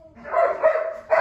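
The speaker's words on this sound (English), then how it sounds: "dogs are going nuts for some reason" Dogs barking in a room, with a few close, loud bark bursts running into one another over about a second.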